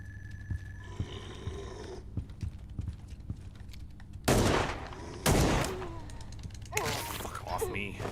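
Gunshots in a retro-style horror video game, three loud bursts ringing out over a low droning background, with muffled talk and game noise before them.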